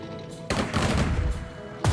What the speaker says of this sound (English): Motherland's armor, firing the heavy caliber